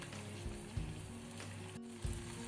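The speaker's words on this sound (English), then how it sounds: "Now we'll bring it to a boil." Sugar syrup boiling in a pan for a chocolate peanut roll, a steady bubbling sizzle with low hum throughout and a couple of soft clinks, no voices.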